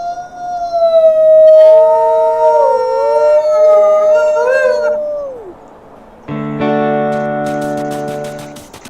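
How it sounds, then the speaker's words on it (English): A coyote in the wolf game WolfQuest gives a long, wavering howl that rises and falls before trailing off. A brighter, steadier tonal call follows. Both are loud and close, with no talk. "It's a coyote."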